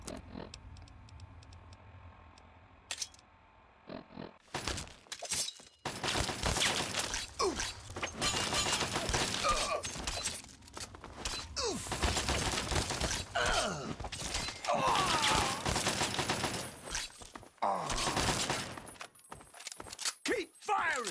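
Bursts of gunfire and sharp crashing impacts in Fallout 3, loud and dense after a quiet opening, broken by brief pauses, with a voice speaking at times.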